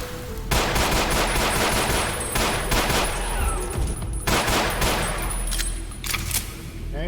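Rapid automatic gunfire from the video game Ashes Afterglow, in an undercity setting called Barrettown, rattles in dense bursts across the whole stretch, loud and continuous with brief pauses between volleys.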